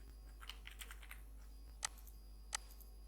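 Keys tapped on a computer keyboard while entering an email address, a handful of soft clicks followed by two sharper, louder keystrokes, close and quiet against a steady low hum.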